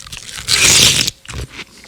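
Someone bites into and chews hot, tender corned beef close to the mic: a loud wet crunching bite, then a few softer chewing sounds.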